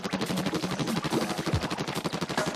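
Rapid ink weapon fire in the Nintendo Wii U game Splatoon, a loud, dense stream of shots with no gaps. The quick rhythmic bursts run for the whole stretch and resemble machine-gun fire.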